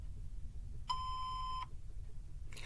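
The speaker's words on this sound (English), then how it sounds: "Please leave a message after the tone." Single steady voicemail beep tone, clear and close, lasting under a second before quiet hiss resumes.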